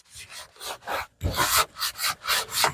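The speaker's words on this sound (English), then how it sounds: "Wipe it down real good with the rag here." Vigorous rubbing of a rag over freshly glued wood, a rapid series of about eight rasping back-and-forth strokes, close and loud with no talk.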